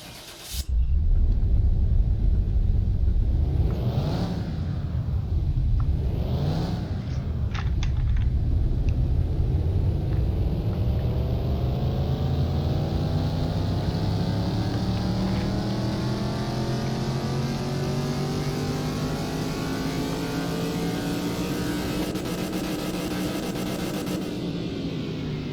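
A junkyard-rebuilt car's engine roars on a dyno in Car Mechanic Simulator 2021, with two sharp revs and then a long, loud pull that rises steadily in pitch before cutting off near the end.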